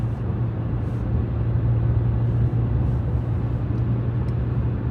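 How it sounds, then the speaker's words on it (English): Steady car interior drive noise with a strong low engine and road hum, continuous and even throughout, no voices. "I'm gonna drive home now"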